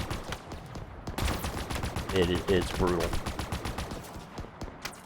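Dense, rapid automatic gunfire and bursts of shooting in Halo Infinite's Recovery mission rattle on almost without pause, loud and close, with someone briefly speaking over the combat.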